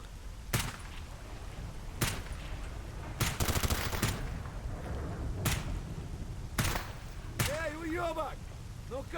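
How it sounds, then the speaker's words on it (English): Stalker GAMMA video game gunfire, sharp loud shots spaced irregularly with a quick burst near the middle, ringing against a steady ambient bed, and a voice speaking near the end. "It sounds like my guy's shooting someone."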